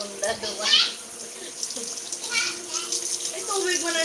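Water pours from a tap into a basin or tub until it overflows, with splashy gurgling close by while children and adults talk over it.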